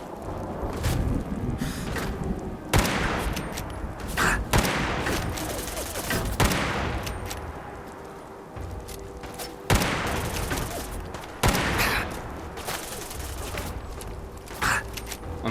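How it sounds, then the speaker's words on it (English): Shotgun fire in the Fallout 4 Far Harbor video game, a series of loud, sharp blasts spaced irregularly, some in quick pairs, over a constant ambient background. "I'm too far away for his shots to be doing decent damage. He's using a shotgun."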